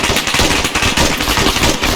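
A machine gun fires from a tower in a video game, a loud, rapid, unbroken burst of shots rattling for about two seconds.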